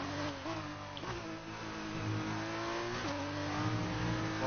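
A Formula 2 race car on the Singapore street circuit revs in a continuous high-pitched whine, rising through gears with sharp dips at each upshift, close and steady, with no talk.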